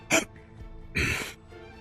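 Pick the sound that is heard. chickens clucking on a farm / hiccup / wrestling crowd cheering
hiccup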